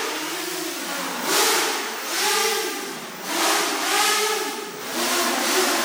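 An Armattan M230 quadcopter drone with huge motors flies nearby, its high buzzing whine rising and falling in repeated swells as the throttle changes.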